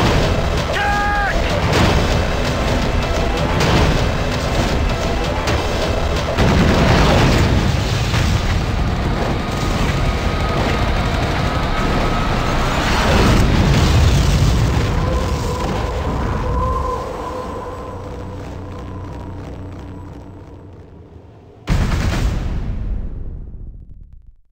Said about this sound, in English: Incoming artillery!